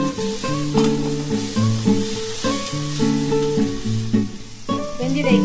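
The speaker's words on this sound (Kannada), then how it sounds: "ರುಬ್ಬಿಟ್ಟಿರೋ ಟೊಮಾಟೊ ಹಾಕ್ತಾ ಇದ್ದೀನಿ. ಚೆನ್ನಾಗಿ ಎಣ್ಣೆ ಬಿಡೋ ತನಕ ಕುದಿಸ್ಬೇಕು." Ground tomato paste sizzles and bubbles in hot oil in a pan while cooking slowly for masala paneer, a steady frying hiss with occasional stirring, under melodic background music.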